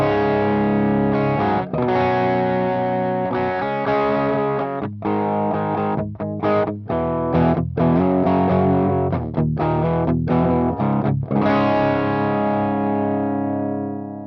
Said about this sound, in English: the guitar is tuned to drop C sharp, and this is the tone without the amplifiers